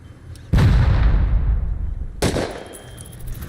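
An auto turret in the Rust video game fires two heavy, booming bursts about two seconds apart, each loud and close with a long rumbling decay.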